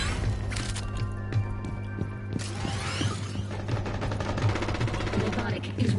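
Rapid automatic gunfire and mechanical weapon clatter from the video game Rainbow Six Siege, bursts of shots layered over a steady hum of game sound, continuous and fairly loud throughout.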